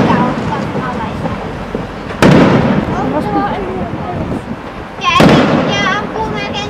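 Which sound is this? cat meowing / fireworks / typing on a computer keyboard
fireworks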